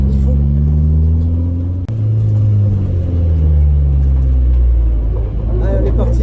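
Toyota AE86 engine pulling hard during a drift, a loud continuous rumble with rising and falling rev tones held throughout, a brief dip midway, with voices heard over it.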